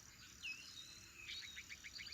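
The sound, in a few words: crickets chirping in the grass, from video game Roadwarden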